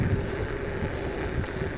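Strong wind gusting steadily across the microphone during an evening ride, a continuous loud broadband rush and buffet with no talking.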